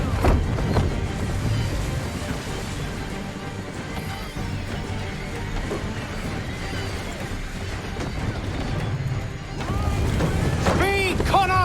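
An Assassin's Creed III sailing ship runs under full sail with steady wind and rushing water. Voices shout over the broad noise, and a brief chirping burst comes near the end.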